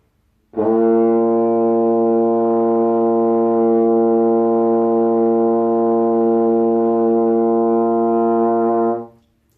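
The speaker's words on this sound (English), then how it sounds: "hopefully you will get a note called B flat, which should sound a bit like this." A trombone sounds a single long, steady low B flat, sustained for about eight seconds with a rich, brassy tone, then fades out.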